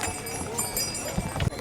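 Mules wait at a mule station on the Kedarnath trek toward Gaurikund, with a brief patter of hooves on hard ground close by and voices murmuring in the background.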